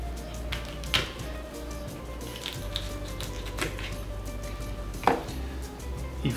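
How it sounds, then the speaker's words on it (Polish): A knife slices through a dragon fruit, cutting it into quarters with a few soft, separate thuds and squishy cuts against a board over a low steady hum. "przekrajamy go na przykład, kroimy go na 4 ćwiartki"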